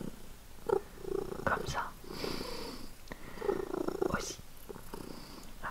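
A pet cat purrs close by in a soft, steady rumbling rhythm, quiet and intimate, while someone speaks French in a low voice over it.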